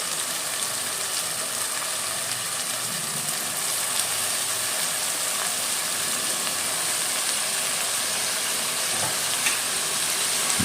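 Chopped amaranth leaves go into softened tomatoes frying in a pan, with a steady, even sizzle and hiss that holds for the whole stretch, close and continuous with faint stirring.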